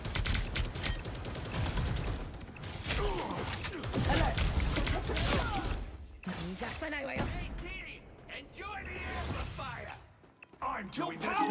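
Turret gunfire in the Marvel Rivals video game, dense rapid bursts of shots mixed with impacts and whooshes that run nearly continuously, loud and busy, with voices talking over the battle.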